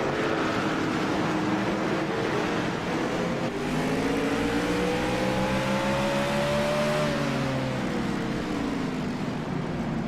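Race cars run on a track, a dense continuous engine roar from the pack with one car's note climbing and then falling as it revs and passes, loud and close throughout.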